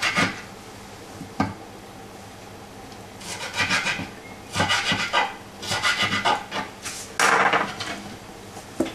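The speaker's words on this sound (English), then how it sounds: "And now we put in half of the medium-sized tomato. Cube it, or chop it fine." Half a medium-sized tomato being cubed on a cutting board for coconut soup, irregular bursts of knife strokes with soft scraping, close and alone.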